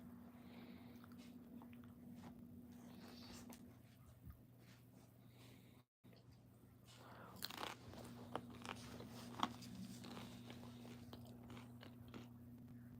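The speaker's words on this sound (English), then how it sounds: "Bear's chewing on the remote" A dog named Bear chews on a TV remote close by, with irregular crunching bites and plastic scraping over a low electrical hum, briefly cut off midway.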